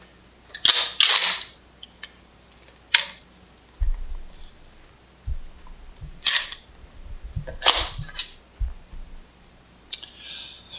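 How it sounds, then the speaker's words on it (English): Pump shotgun action racked to clear a malfunction, with the shell falling free: a few sharp metallic clacks and sliding clicks spaced across several seconds, close and crisp, separated by quiet gaps with soft low thumps. "Put pressure on the carrier, work the action, and the shell will fall free."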